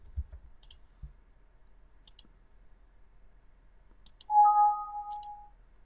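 Sharp computer mouse clicks while working in SolidWorks CAD software, single and double clicks spaced a second or two apart in a quiet room, then a brief soft electronic tone near the end.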